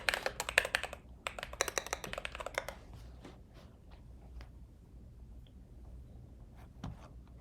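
Rapid clattering keystrokes on a MacBook Pro keyboard come in close bursts for about three seconds, then thin out into scattered, quieter taps.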